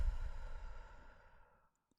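A single soft, breathy exhale during a guided relaxation breathing exercise, close and quiet, fading out gradually over about a second and a half with no talking.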